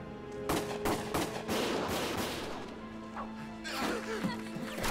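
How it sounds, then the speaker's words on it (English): Sharp, repeated gunshots crack in quick bursts, loud and close, with clattering impacts between them and no talking. "Gunfire!"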